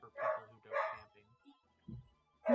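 Dogs bark in short loud bursts, a few sharp woofs close together with a brief pause, then another bark at the end, without speech over them.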